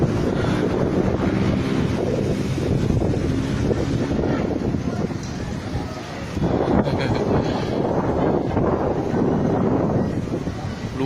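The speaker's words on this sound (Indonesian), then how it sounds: "itu yang puting beliung" Tornado winds tearing over Tanjung Buntung in Batam, a loud, constant roaring gust buffeting the microphone, swelling and easing slightly but never stopping across the whole stretch.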